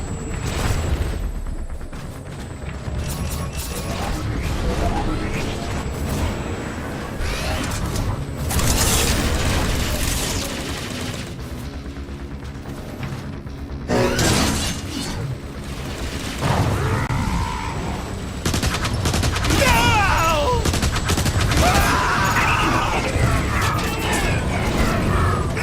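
Anti-air guns fire in Transformers: War for Cybertron amid a dense, continuous clatter of mechanical gunfire and explosions, loud and busy throughout with brief dips and surges.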